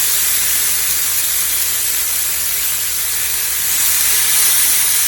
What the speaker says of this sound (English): our chicken right on top of it, and you can hear that sizzle